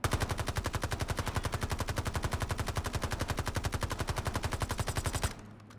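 Rapid sustained automatic fire from an ABR A1 rifle on a firing range in Call of Duty BO6/Warzone, a steady stream of loud, evenly spaced shots for over five seconds before stopping abruptly.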